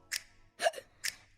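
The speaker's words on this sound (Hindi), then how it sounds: "देखो ना रुकती क्यों आए साली हिचकी" A child's hiccups, three short breathy catches spaced apart, close and alone.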